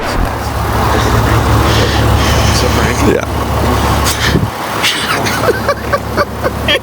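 A van's engine drones steadily while driving, with a low rumble and road noise filling the space; people inside talk briefly over it.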